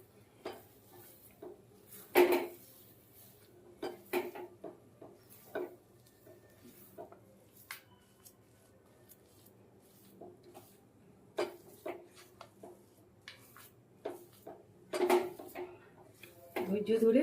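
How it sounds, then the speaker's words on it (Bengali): A sweet mixture of grated carrot, semolina, sugar and milk is stirred in a pan over low gas for carrot rasmalai, with scattered spoon-on-pan clinks and scrapes, a few louder knocks, and speech at times. "গাজরটা, সুজি, চিনি, দুধ সব কিছু মিশিয়ে নিচ্ছি, গ্যাসটা কমিয়ে রেখে।"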